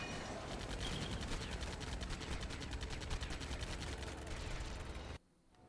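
Rapid machine-gun fire in Lego Batman: The Video Game, a dense stream of repeated shots for about five seconds before cutting abruptly to near silence.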